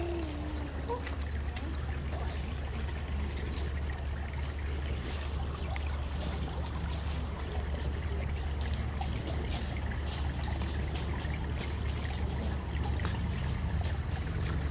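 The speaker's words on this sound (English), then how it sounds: "a peaceful water fountain made out of this really cool rock" Water trickling steadily from a fountain carved from rock in a garden, a continuous soft splashing and dribbling that stays close and even throughout with no voices.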